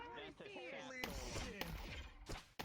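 Video game gunfire: several sharp, scattered shots cracking out amid voices and other game sound.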